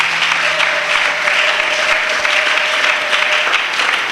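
A church congregation applauds in acclaim of the Lord, a dense, sustained clapping that holds steady and loud throughout with a faint held tone beneath.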